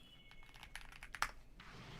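Clicks from a computer keyboard's mechanical switches come in a short, uneven flurry of close keystrokes, light and quick, over a faint background hum.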